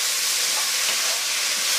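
Shirataki konjac noodles frying in a hot pan, a steady, loud, broadband sizzling hiss that holds unbroken with no speech.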